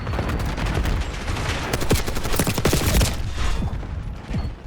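A light machine gun in Black Ops 6 fires rapid, sustained bursts of loud, close gunfire with short pauses between strings of shots. It plays alone with no talking.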